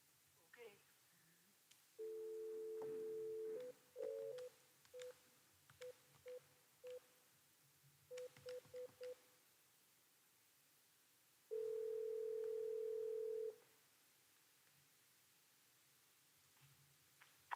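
A phone line during a city council meeting carries a series of DTMF touch-tone beeps as a number is dialed, followed by a long steady dial or ring tone. The tones are clear and distinct, with faint room noise underneath and no talking.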